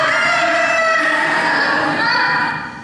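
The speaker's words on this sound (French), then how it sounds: "C'est plutôt votre coq là qui a l'air d'avoir un problème. Pauvre Léo, il a dû se casser la voix." A rooster crows with a hoarse, strained voice, one long, loud, rasping call close by that trails off at the end.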